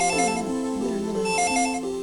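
A telephone rings in the living room in the Dragon Ball Z: The Legacy of Goku video game, a loud, steady electronic ringtone with warbling melodic tones that repeat twice across the short span, with no voices.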